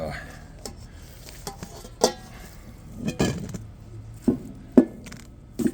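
Quail sausage meat being loaded by hand into the hopper of a sausage stuffer, with scattered soft thumps, clacks and scraping handling noises at close range, some sharper knocks standing out over a quiet room.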